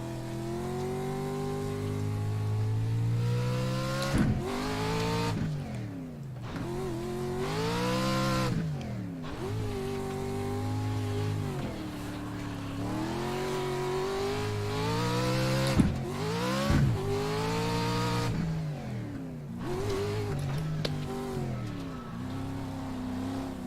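A Pro Truck in the iRacing sim roars loudly and continuously, its engine revving up through the gears with rising pitch sweeps, brief dips at each shift and occasional tire noise, with no talking.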